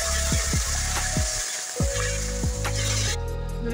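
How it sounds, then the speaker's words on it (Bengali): Salted puti fish dropped into hot oil in a village kitchen, a loud continuous sizzle and crackle with several sharp spits and pops, close up and alone. "নুনের সাথে টানানো পুঁটি মাছগুলো দিয়ে দিব"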